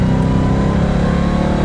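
Loud, close, sustained engine roar from a Dodge Durango or Trackhawk Hellcat accelerating hard on an open road, steady and heavy throughout.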